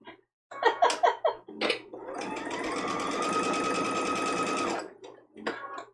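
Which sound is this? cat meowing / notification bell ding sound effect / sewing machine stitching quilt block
sewing machine stitching quilt block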